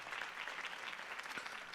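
Crowd applause, a steady patter of many hands clapping at once, fairly faint and continuous throughout.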